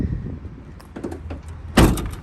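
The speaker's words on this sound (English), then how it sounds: "just swing the left door closed," Rear doors of a 2020 Ford Transit AWD van swing shut, with light creaks and rattles followed by one loud, close, solid slam near the end.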